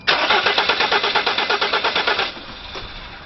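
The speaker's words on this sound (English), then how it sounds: "Now let's start her up." A camper van engine cranks with a steady, rapid chugging rhythm of about a dozen loud pulses, then catches and drops into a lower, steadier idle, close and alone.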